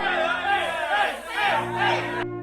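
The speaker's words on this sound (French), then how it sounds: "à Berlin, la foule est en liesse. Et elle crie « À Paris!" A dense crowd in Berlin during the 1914 German mobilisation roars and shouts together, a loud, continuous massed cheering that cuts off abruptly at the end.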